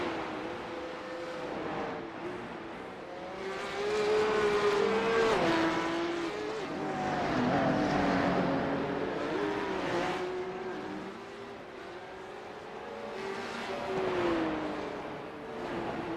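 Porsche Cup race cars in a racing video game, engines revving and droning in loud waves with shifting pitch, cars passing close by and faint tire squeal, no talk.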